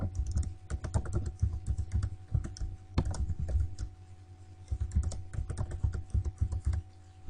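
Rapid, close keystrokes on a computer keyboard as a password is entered, a dense run of crisp clicks with a brief lull midway, over a low steady hum.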